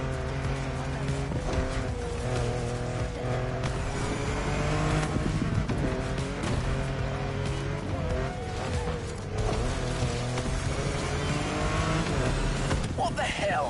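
A car's engine roars and revs steadily while driving in The Crew Motorfest racing game, shifting pitch through gear changes with occasional tire squeal, continuous and up close under a narrator's voice.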